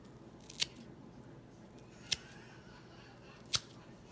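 Three crisp, separate snips of scissors cutting twine wicks, spaced about a second and a half apart against a quiet background.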